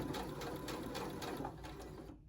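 A regular sewing machine stitches ribbing onto a T-shirt neckline in a short, steady run of rhythmic needle thumps, close and moderately loud, halting at the end.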